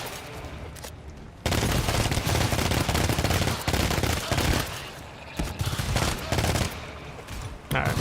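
Sustained automatic gunfire in the co-op shooter GTFO, a quieter stretch giving way to long, dense, close volleys with brief pauses and renewed bursts.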